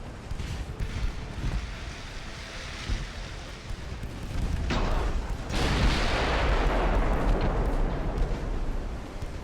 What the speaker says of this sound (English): Ranging shot.